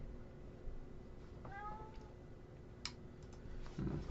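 A house cat gives a short, faint meow partway through, heard at a distance against a quiet indoor background with a few small clicks and taps.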